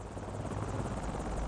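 A Hiller UH-12B helicopter flying in Microsoft Flight Simulator produces a steady, close rotor drone with a rhythmic low-frequency chop that stays constant and unbroken with no other sounds.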